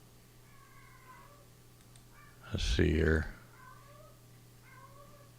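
A house cat lets out one loud, drawn-out meow up close, rising and then falling, while someone speaks quietly before and after it.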